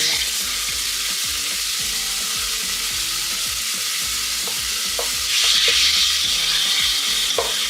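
Mutton curry fries in oil in a home kitchen while being stirred, with a steady sizzle and repeated scraping strokes of the spoon against the pan, getting louder near the end.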